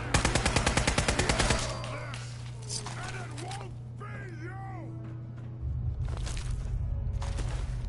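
Rapid automatic gunfire from a Fallout 4 fight opens the moment in loud pulsing bursts, then gives way to creature-like bellows and cries before a heavy rumbling burst of fire returns.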